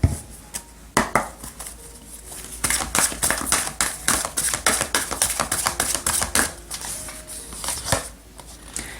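Oracle cards are shuffled and laid out for a tarot reading: quick, crisp clicks and slaps come in uneven bursts close to the ear, with no talking.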